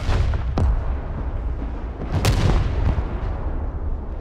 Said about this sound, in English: there's a whole bunch of freaking artillery back there